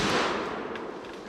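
A rifle shot rings out at a black bear during a Wisconsin hunt, one loud close blast at the very start that decays into a rolling echo through the woods.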